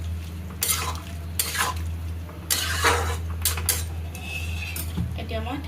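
Metal spoon stirring food in a cooking pot after salt goes in, a run of scraping clinks and clatters against the pot over a steady low hum, with quiet background noise.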